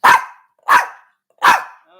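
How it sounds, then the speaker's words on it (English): A dog barks three times in a steady rhythm, each bark loud, close and sharp, with short quiet gaps between them. "See, I got a smart dog."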